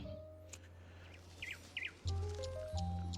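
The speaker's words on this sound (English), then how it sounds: "Oh, look at the cute little bird." In the video game Genshin Impact, a small bird gives two quick, faint chirps over a low humming game soundtrack, with soft tones and clicks around them.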